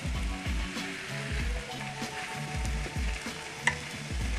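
Potato waffle mix sizzles steadily inside a closed waffle iron, a continuous soft frying crackle with low rhythmic thumps and a single sharp click near the end.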